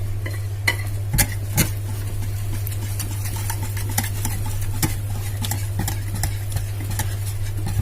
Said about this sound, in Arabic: قلبيه حلو قوي علشان تديكي